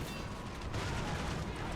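Dense battlefield din in a Call of Duty: World War 3 mod firefight, a continuous wash of gunfire and heavy rumbling blasts with no break, loud and close throughout.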